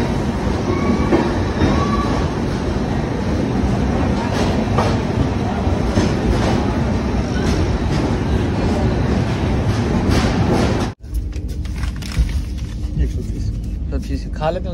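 The Sabarmati Express passenger train rolls along the rails with a loud, constant rumble and rattle heard from inside a 2nd AC coach, the noise briefly cutting out before resuming, with voices talking over it.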